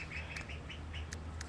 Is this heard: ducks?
yes